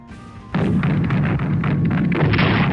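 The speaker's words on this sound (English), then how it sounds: "the anti-aircraft fire was really helpful" Sustained anti-aircraft fire in the Strategic Command WW2 Pacific war game, a dense continuous barrage of booming, thudding shots that erupts suddenly after a quieter start and stays loud to the end.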